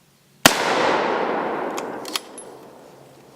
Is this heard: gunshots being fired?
yes